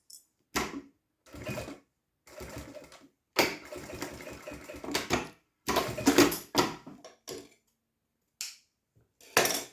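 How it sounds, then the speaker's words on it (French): A sewing machine stitches a support seam along the edge of a fabric pencil case in bursts of close, rapid mechanical chatter, with short pauses between runs. "Et je vais venir piquer vraiment ici au bord pour soutenir simplement donc le support."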